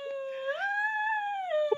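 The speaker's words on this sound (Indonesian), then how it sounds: "Apa itu? Anjing, Guguk. anjingku." A dog howls in one sustained, rising and falling tone lasting under two seconds, fairly close and clear, with no talking over it.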